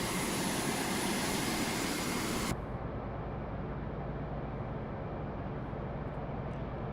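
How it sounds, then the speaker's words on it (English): Fighter jet roaring through the air in the Carrier Command 2 video game, a loud continuous engine rush that abruptly loses its bright hiss partway through and settles into a lower steady drone, with no talk. "we got a fighter jet in the air"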